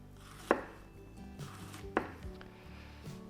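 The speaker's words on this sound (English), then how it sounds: "so I've got some really fine slices of fennel there" A knife slicing fennel finely on a cutting board, a few sharp chops spaced more than a second apart, close and fairly quiet with no talk.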